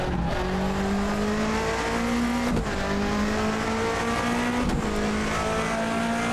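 A race car in Assetto Corsa roars continuously at close range, its engine pitch climbing and then dipping sharply twice as it shifts and slows for braking.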